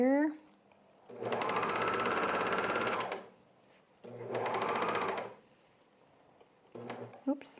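A sewing machine stitches men's underwear fabric in two loud, steady bursts of a few seconds each, its needle clattering rapidly, separated by pauses with brief voices at the start and end.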